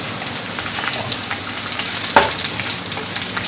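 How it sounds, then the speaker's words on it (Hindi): Tempering spices and onions go into hot kadhi with a steady oily sizzle, and a spoon stirs and scrapes through the pot with one sharper clink near the middle; no one speaks. "ये जो मैंने बाकी की भगार की चीज़ें रखी थी ये इसमें मैं डाल दूँगी और फिर चम्मच चलाऊँगी"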